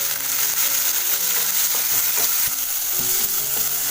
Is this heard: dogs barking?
no